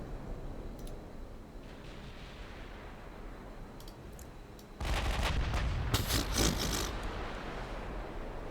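Heavy 16-inch naval guns fire in a naval strategy video game, a sudden loud booming salvo after low rumbling ambience, with a second burst of blasts and crackle trailing off.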